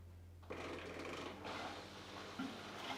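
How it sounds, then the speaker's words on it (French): The drain pump of a renovated washing machine starts up and runs with a faint, steady mechanical whir and a low hum, with no voices. "voir si la pompe de vidange fonctionne correctement"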